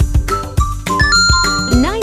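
A Poco X7 Pro smartphone sounds its charging chime as 90-watt HyperCharge connects: a short bright run of electronic tones ending in a swooping melodic figure, heard close and clear among faint voices.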